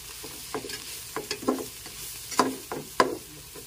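Tamarind leaves and tamarind sizzle in a pot after being wilted in fish sauce and oil while broth is added. Irregular scrapes and wet spattery bursts sound close by over a low simmering hiss, with no talking.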